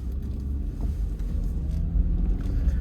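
A car on Michelin CrossClimate 2 tires drives through a snow storm with a steady, low, rumbling road and engine drone and some wind buffeting, continuous and close, with no talking.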